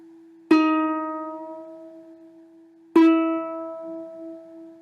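A ukulele E string is plucked twice while being tuned by ear toward a reference pitch. Each note rings out bright and close and decays slowly, with no voices over it.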